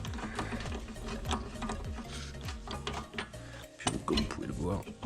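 A brake drum hub nut is tightened on a car during a wheel bearing and brake drum job, giving rapid metallic ratcheting clicks up close, with a few clanks of tools and intermittent talking.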